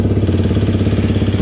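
A new motorcycle engine idles steadily and loudly up close, with an even, rapid thumping rhythm and no break throughout.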